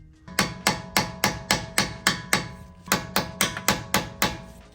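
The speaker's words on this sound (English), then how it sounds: "we're gonna go ahead and tap it with a little rubber mallet" A small rubber mallet tapping a nut onto a suspension bolt while Swift springs go into a Honda Civic Type R: about fifteen crisp, evenly spaced knocks, near and loud, in two runs with a brief pause between them and no talking.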